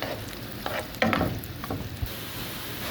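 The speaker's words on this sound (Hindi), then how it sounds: "जब तक कि हमारी प्याज फ्राई नहीं होगी हम इसमें चमचा चलाते रहेंगे।" Onions fry in a pan for an aloo chana chaat recipe, a steady close sizzle broken by a few scraping stirs of a spoon.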